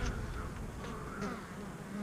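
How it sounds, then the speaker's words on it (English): Honeybee drones fly around a bee yard in a dense, steady buzzing swarm, close and continuous with no talk. "So I've got drones flying."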